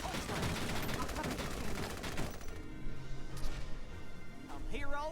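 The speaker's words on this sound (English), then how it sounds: "The enemy's returning fire!" Gunfire from enemy soldiers in Valkyria Chronicles 4, a steady crackling barrage of rapid shots running under game voices and talk, easing slightly before a brief whooshing sound at the end.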